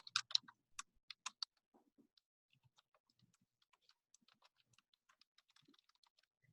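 Typing on a computer keyboard while writing code: a quick cluster of sharp, close key clicks at first, then sparser, fainter taps scattered irregularly across several seconds in a quiet room.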